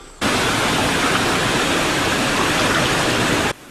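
Rushing river water, a steady loud broadband roar of flowing current that starts and stops abruptly, close and continuous with no voices.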